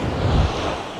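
Calm sea waves wash onto the beach at Ramsgate as a steady broadband rush, swelling briefly near the start, with wind buffeting the microphone and no voices.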